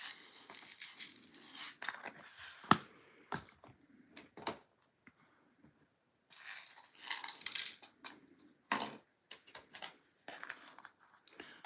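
Chunky red, orange and yellow colored glass frit pieces clink and rattle as they are stirred together into a custom autumn mix for glass fusing, in irregular bursts of close, light clatter separated by brief pauses.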